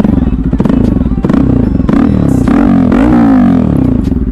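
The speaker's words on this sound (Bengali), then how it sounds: "আর তোমাকে এবার বাইকটা স্টার্ট করে দেখাচ্ছি।" An RS200 motorcycle fitted with a new exhaust, revved lightly in a local neighbourhood; loud, close engine bursts rise and fall in pitch over a bassy idle, with a voice speaking briefly alongside.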